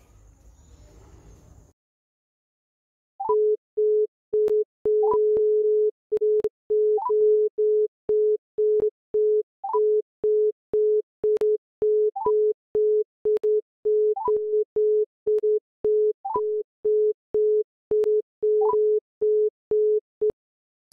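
Phone busy signal on a call to the Nepal Electricity Authority: after a short muffled lead-in, a long train of evenly spaced, loud electronic beeps with a higher chirp every couple of seconds, repeating without any answer.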